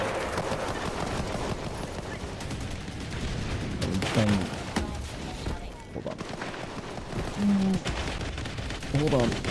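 Explosions and gunfire in a war video game on a map called Cyberstan: dense rumbling blasts and crackling shots that roll on continuously, with someone talking over the din.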